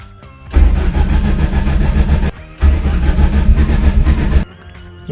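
A sealed-up engine cranks over and over in two long sustained bursts of loud, rough churning, separated by brief pauses, without firing up.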